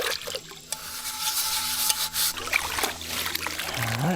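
A dish being rinsed out with water at a riverside camp in the Florida jungle, with close splashing and trickling, scraping clatter and a few short voices mixed in.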